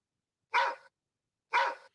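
Two short dog barks played as a soundbite cue for someone nicknamed Big Dog, each sharp and fairly loud, separated by about a second of silence, with no talk.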